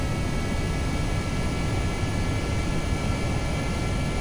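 Kerbal Space Program rocket engine at full throttle, a steady loud broadband roar with a faint high whine, constant and unbroken throughout.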